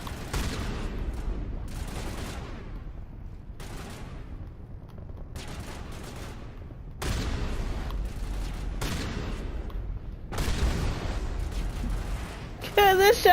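Repeated shotgun blasts in Mass Effect 3, loud booming reports with long decaying tails, fired every second or two in an irregular sequence, with a faint electronic tone at the very end.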